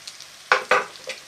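Shallots being stirred in a frying pan, two sharp scraping clatters of utensil against pan over a faint sizzle, close and brief with no talking.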